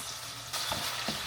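Tomatoes frying in a kawali for pinakbet, a steady close sizzle that surges as they drop in, with a couple of brief stirring scrapes and no talk.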